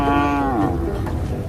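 A cow among a Wodaabe herding group gives one loud, close moo that falls in pitch and fades into low rumbling background noise.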